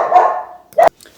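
A single dog barks close by, one drawn-out bark followed by a short sharp yelp indoors.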